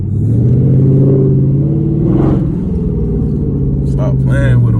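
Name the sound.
tuned Dodge Charger SRT8 accelerating and shifting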